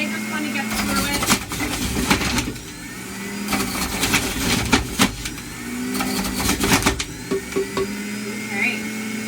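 An electric juicer grinds carrots, oranges and ginger with a loud whirring motor roar, rising and falling as produce is fed in, marked by sharp crunching bursts, while a person talks over it.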